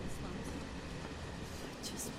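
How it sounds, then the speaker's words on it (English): A crowded passenger train carriage in Final Fantasy 7 Remake: a steady low rumble of the moving train runs throughout, with a faint murmur of voices and a few brief sharp clatters near the end. "It's a busy train"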